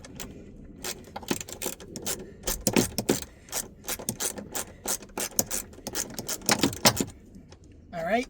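A 10 mm wrench loosens a ground bolt on a car during a steering wheel swap. Close metallic clicks, rattles and scraping come in bursts as the tool works, with someone talking between them.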